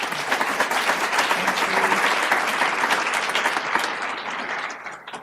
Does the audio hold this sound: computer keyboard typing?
no